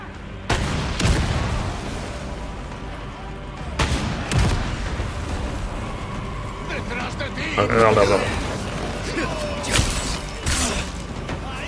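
Booming blasts from an infinite rocket launcher in Resident Evil 4 Remake, several loud detonations spaced a few seconds apart, with mechanical clatter and game effects between them and talk running underneath.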